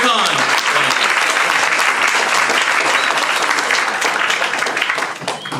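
An audience at a charity iftar event in London breaks into loud, sustained applause for two boxers, dense clapping filling the room before tapering off at the end.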